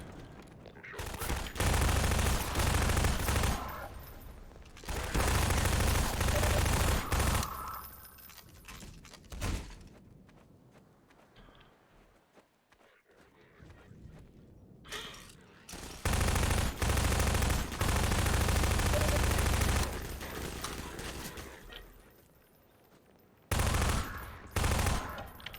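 Bursts of SMG gunfire from Half-Life 2: Lost Coast, loud and sustained, in several long volleys separated by short quieter gaps.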